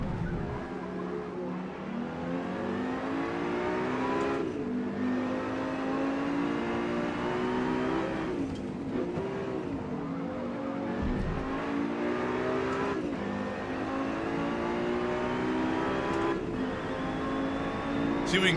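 Race car engines in Forza Motorsport on PC, revving steadily and rising in pitch, with shifts and lifts every few seconds; a continuous loud drone from a multiplayer lobby race.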